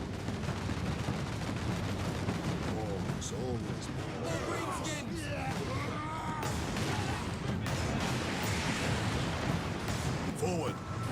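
A big gun fires repeatedly in the Space Marine video game, a dense and continuous barrage of heavy blasts and crashing impacts that stays loud throughout.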